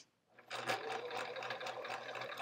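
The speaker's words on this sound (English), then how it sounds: "I'm sewing now" A sewing machine stitches quilt strips in a steady close whir, starting after a short quiet moment and then running without a break to the end.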